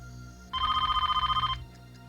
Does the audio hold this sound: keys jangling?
no